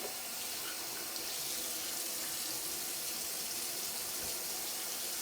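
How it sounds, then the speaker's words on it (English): Warm water streams steadily from a tap into a sink, a constant close splashing rush with no break and no voices. "get our warm water going"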